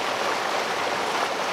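A creek flows in a steady, close rush and babble of water that stays continuous throughout, with no voices.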